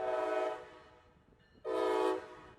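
A Brightline passenger train sounds its horn near a road crossing in South Florida: two loud, sustained blasts separated by a brief pause, the second starting sharply, with no voices.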